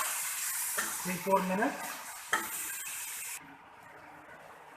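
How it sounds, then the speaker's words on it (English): Tomato sauce being stirred in a cooking pan for ratatouille, giving soft scraping and bubbling sizzle with a few louder spoon knocks, close by, under a brief spoken remark before fading to a quieter simmer. "tomato sauce. Mix it nicely, let it cook for next"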